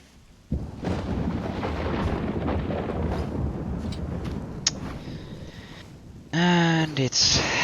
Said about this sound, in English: And it's thunder.